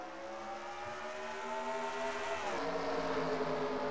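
NASCAR Nationwide Series race cars roaring toward the green flag start of the Sam's Town 300, a dense blended engine drone that rises in pitch and grows louder as the field accelerates, heard from a distance.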